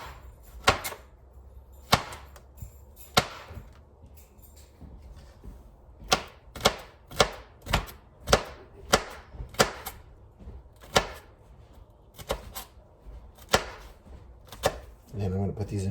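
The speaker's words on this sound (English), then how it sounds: "I'm gonna just chop half of this one up" A knife chops a vegetable on a cutting board for game day chili, sharp separate thwacks at an uneven pace, sometimes in quick runs of two or three, close and loud over a quiet room.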